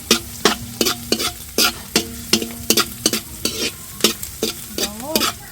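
Ginger and garlic sautéing in a pan for Filipino braised carabao meat, loud sizzling frying broken by repeated sharp scrapes of a spatula stirring in a quick, regular rhythm, close up with no talking.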